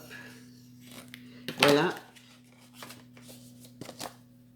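Scissors snipping through a sheet of card stock while making a folded card, a brief crisp burst of cutting near the middle, close and fairly quiet, with a steady hum underneath and a person speaking briefly.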